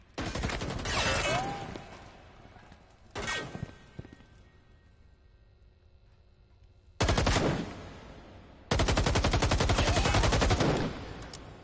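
Bursts of rapid automatic gunfire in a tactical shooter match, loud sustained volleys separated by a quieter lull, with sharper close fire returning at the end.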